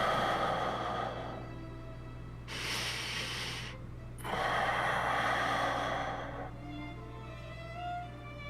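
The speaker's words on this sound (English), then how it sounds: "The sound of steady breathing was next to me." Steady breathing of a sleeping young man beside the listener, a few soft, slow airy breaths with two fuller, louder exhales in the middle, close and quiet, no talking.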